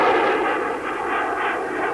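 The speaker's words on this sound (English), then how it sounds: "That's the chase planes flying by and just clearing the area." Chase planes escorting a landing space shuttle roar past, a broad, steady jet rush that swells slightly as they clear the area, loud and continuous with no talking.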